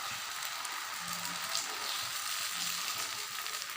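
Dosa batter spread on a hot stone griddle sizzles in a steady, even hiss at moderate loudness, with no one speaking.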